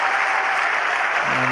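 A partisan crowd at an England versus Australia cricket test applauding a run by Mark Butcher, a dense, loud wash of clapping that holds steady throughout, with a voice entering faintly near the end.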